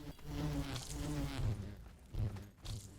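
Buzzing bees in the Call of Duty Zombies map Zenith, a continuous droning hum that swells and fades in several pulses, fairly close and steady for the whole stretch.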